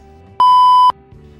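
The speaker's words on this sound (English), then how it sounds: "my phone is ringing" A steady electronic phone tone sounds once, loud and clear, holding for about half a second before cutting off, with no one speaking.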